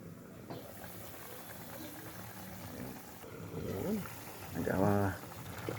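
A pot of vegetables with long beans and eggplant simmers and bubbles quietly, soft burbling under a voice that rises to louder speech near the end.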